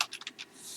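A quick burst of computer keyboard typing as a new folder name is entered, several close, crisp key taps in rapid succession, alone without talk.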